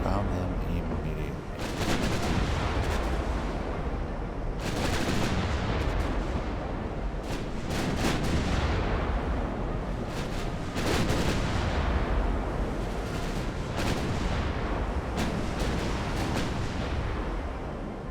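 Naval artillery booms repeatedly in Ultimate Admiral: Dreadnoughts, heavy, loud salvos rolling over one another at irregular intervals over a constant rumble of battle, with a voice talking faintly underneath.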